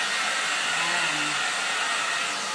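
A hair dryer blows in a loud, steady rushing hiss of air that stays constant throughout, close by and without any voices.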